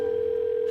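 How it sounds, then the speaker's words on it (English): A single steady telephone tone sounds while a call to Mom is placed, a continuous pure hum lasting under a second, close and clear, with no talking. "I'm phoning Mom."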